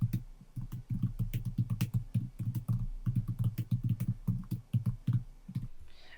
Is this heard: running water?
no